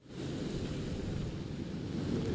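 Storm surf pounding the Hampton shore along Ocean Boulevard during a March 2018 nor'easter, heard as a steady, loud roar of crashing waves mixed with wind, with no voices.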